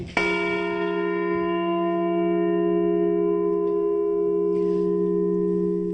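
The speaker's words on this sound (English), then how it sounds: "What you just heard is a perfect E-flat, which the original Liberty Bell was tuned to as well." A replica Liberty Bell, tuned to E-flat, is struck once and rings out with a clear, steady tone that hums on and fades slowly.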